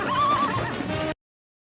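A rodeo bucking horse gives a loud, close whinny with a wavering, drawn-out pitch lasting about a second, then cuts off abruptly into silence.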